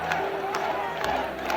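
A crowd roars at the All-Ireland Hurling Final in a large stadium, a steady loud wash of cheering that fills the background while a voice speaks over it.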